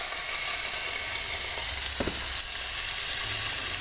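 Beef fries in a pan with a steady, loud sizzle throughout, broken by a couple of brief scraping stirs near the middle.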